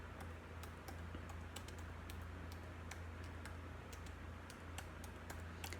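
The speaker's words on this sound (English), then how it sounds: "I'm just gonna type in." Soft, steady clicking of computer keyboard typing at a desk, irregular keystrokes tapping along over a low background hum, faint and close.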